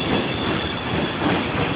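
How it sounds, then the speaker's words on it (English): A Q subway train rumbles past up close, loud and continuous, its steel wheels clattering on the rails with a broad roar and no voices over it. "The Q subway, which I should be on, but I'm not."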